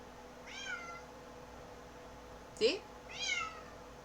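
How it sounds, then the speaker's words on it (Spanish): A pet cat meows indoors, three short rising-and-falling meows spread over a few seconds, faint and slightly distant, with a brief voice in between and a quiet room hum underneath. "Se escucha mi gato que ella anda ahí haciendo su show"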